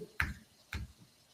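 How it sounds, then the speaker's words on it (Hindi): Two sharp finger snaps, about half a second apart, crack out close and alone against a quiet background, made to drive away ghosts. "चुटकी बजा के भगाते हैं"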